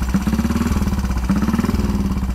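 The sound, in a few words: motorcycle engine running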